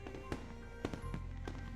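Fireworks burst overhead in the visual novel Katawa Shoujo, with three or four sharp, fairly loud pops scattered over a low, steady rumble and background music.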